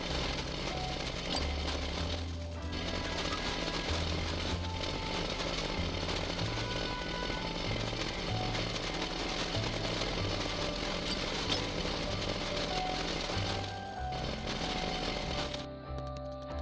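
Sand being dug away in the video game Dinkum, heard as a continuous, loud, buzzing mechanical drone that runs without pause, with brief dips near the end and no talking.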